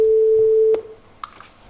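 A single steady electronic pitch tone from a tune-based random number generator sounds loud and clear for under a second, then cuts off, leaving faint room noise and a small click.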